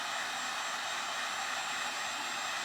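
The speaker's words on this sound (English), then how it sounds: "I'm going to use the heat gun to try to dry this a little bit quicker" A heat gun blows steadily while drying a thin clear plastic ornament, a loud, even airy roar with a whine on top, close and unbroken with no other sounds.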